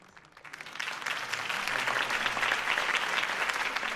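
A crowd applauds a Gotham mayoral campaign speech, clapping building quickly from a quiet start into a sustained, dense roar of hands that holds to the end.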